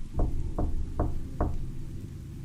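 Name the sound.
knock on the front door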